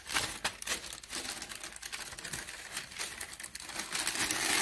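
Parchment paper folded in half for a Moroccan tanjia pot, a close, crisp crinkling and rustling that runs steadily and gets a little louder toward the end.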